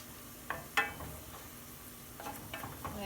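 Onions caramelizing in oil in a pan, a soft, low sizzle punctuated by a few sharp clicks and taps from stirring.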